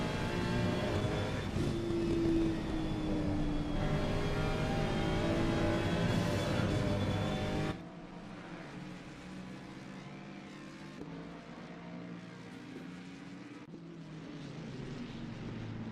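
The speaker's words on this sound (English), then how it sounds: "You can hear faintly in the distance that thunderous V8 from Rudolph's Laniax" A GT3 racing car's V8 engine drones in a racing video game at Barcelona, a steady engine roar that drops away abruptly partway through to a fainter, more distant hum.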